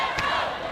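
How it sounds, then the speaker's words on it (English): A crowd roars and cheers in an indoor arena during the gold medal match of the Canadian National Dodgeball Championship, a dense, loud, sustained wall of voices with one brief thump. "as the crowds get louder"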